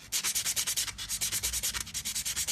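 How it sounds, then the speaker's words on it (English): Rapid, steady back-and-forth strokes of sandpaper rasping across a surface to even it out, a rhythmic scratchy hiss repeating several times per second, close and alone. "So we need first use the sandpaper to set the surface, to get a perfect even surface."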